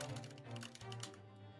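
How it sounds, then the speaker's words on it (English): Quiet, rapid typewriter-like key clicks tap in quick irregular bursts within Great Ace Attorney Chronicles, set against a soft sustained musical tone. "I can hear the typing."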